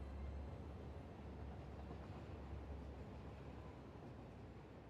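Train running along its track in the factory-building game Satisfactory, a continuous low rumble with steady mechanical noise and a deep hum, heard alone at an even level throughout.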